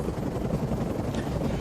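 Helicopters in the video game Defiance 2050, a brief, dense rotor rumble with a windy, noisy wash.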